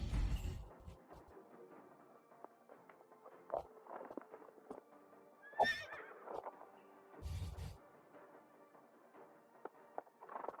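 A horse whinnies several times on an outdoor training ground before riding and archery, with a few hoof clops and rustling between the calls, moderately close.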